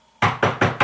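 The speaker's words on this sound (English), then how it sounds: "we heard a knock at the door" Four sharp knocks on a door in an even rhythm, loud and close, with no voices around them.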